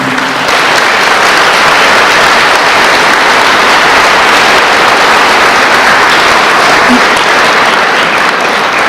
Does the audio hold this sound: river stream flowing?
no